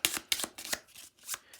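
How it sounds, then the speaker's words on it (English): A stack of Nemo's War event cards being shuffled by hand: several quick riffling bursts in a steady rhythm, close and fairly quiet, with no talking. "We'll shuffle these up"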